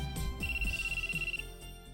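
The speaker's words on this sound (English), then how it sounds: "And then my cell phone rings." A cell phone ringtone chirps in a short, steady electronic trill inside the visual novel If My Heart Had Wings, over soft background music.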